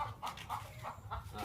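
Free-range village chickens on a farm cluck in a quick rhythmic series of about five close, loud clucks, heard alone without talking.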